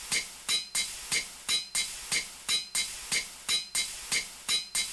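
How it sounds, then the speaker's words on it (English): A forge hammer in modded Minecraft GregTech crushes sulfur ore with a steady run of sharp metallic clanks, about ten evenly spaced strikes in five seconds, each loud and close with a short ringing tail. "put it in the forge hammer, make it an impure pile"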